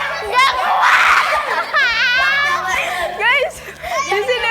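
Children shout, squeal and scream in excited bursts during a lively kids' activity, voices overlapping loudly and close by with short pauses between cries.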